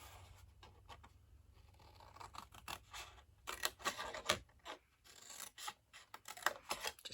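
Scissors snip paper for a Father's Day tie box, a series of short crisp cuts close by, sparse at first and then quicker and louder, with no talk.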